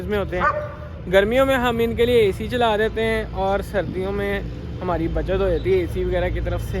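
A caged dog on a farm barks and whines at peacocks, giving repeated yips and bow-wows up close that mix with someone talking over them.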